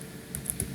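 Keys clatter on a computer keyboard while text is entered in an Excel sheet, three or four quick, close taps in a short burst.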